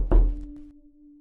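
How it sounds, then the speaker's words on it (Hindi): A single firm knock lands on a wooden door, a dull thud that rings briefly and fades into a faint lingering hum. "अचानक दरवाजे पर दस्तक हुई"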